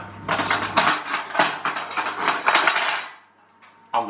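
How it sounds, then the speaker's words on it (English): Spoon scooping and stirring cold baked beans in a dish, a run of clinks, scrapes and wet knocks at close range, then a brief pause and a final tap. "going to spoon the beans on. Give them a bit of a mix"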